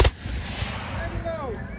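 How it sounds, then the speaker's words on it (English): Eighteenth-century reenactors fire a musket volley outdoors: one sharp, loud combined crack at the start, then a rolling echo that fades over the next second and a half. "Make ready. Take aim. Fire."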